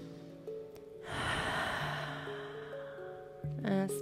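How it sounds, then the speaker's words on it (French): A single deep breath during a calming yoga session, a long airy inhale-exhale rising and fading over a few seconds against soft, sustained background music, close and gentle. "Et doucement, on vient prendre une dernière respiration profonde"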